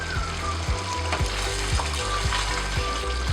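Chicken curry with onion and tomato gravy cooks in a pan over a medium flame, giving a steady close sizzle broken by regular soft clicks and knocks about every half second.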